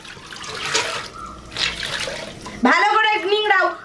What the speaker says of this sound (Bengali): ভালো করে নিংড়াও যাতে ওতে একটু জল না থাকে